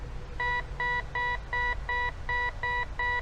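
A BAESAN metal detector gives a mid-tone signal over a 2020 zinc penny: eight short, even electronic beeps repeat at a steady pace, clear and alone over a faint background hiss.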